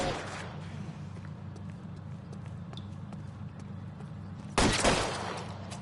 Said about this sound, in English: Keep shooting!